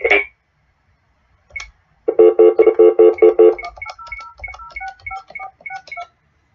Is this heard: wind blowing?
no